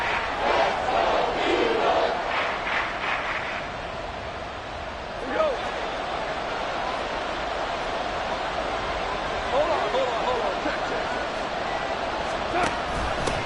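Stadium crowd roaring in the video game Madden 24 playoff game, a dense wash of cheering that swells early then settles into a steady murmur, with announcer commentary over it.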